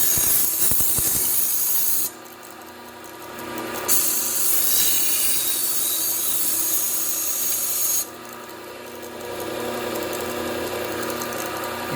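Knife blade ground against a Xelerion abrasive belt on a running belt sander, with a steady motor hum and continuous rasping contact. The rasping swells and shifts as the blade is passed across the belt in several strokes, loud and close, with no voices.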